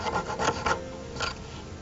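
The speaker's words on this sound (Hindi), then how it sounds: "जो भी काम करना है इस आरी से काटना है" A jeweller's fine hand saw cuts through wood in a quick burst of rasping strokes, then one more stroke after a short pause, close up with no talking.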